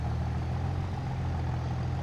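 A video-game tractor engine labours up a hill in Silverrun Forest, a steady low drone that stays even and moderately loud throughout the short stretch, with no voices.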